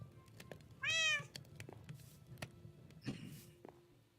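A Minecraft cat gives one short, clear meow near the start, followed by faint clicks and soft game noises.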